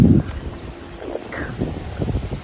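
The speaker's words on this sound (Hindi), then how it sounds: "इतना तेज हवा आ रही है" Strong wind gusts outdoors, with a heavy rumbling buffet at the start and a continuous rushing roar across the microphone throughout.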